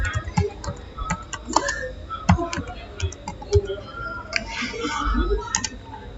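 Keys clatter on a computer keyboard in irregular bursts of sharp clicks, close and fairly loud, while a setup command is entered on a Cisco device.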